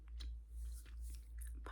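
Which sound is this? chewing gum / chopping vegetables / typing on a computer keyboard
chewing gum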